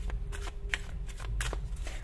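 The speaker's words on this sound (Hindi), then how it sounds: "यहां से कार्ड निकालेंगे" A deck of oracle cards is shuffled by hand in quick riffling bursts, several soft papery flutters in rapid succession, close up over a low background rumble.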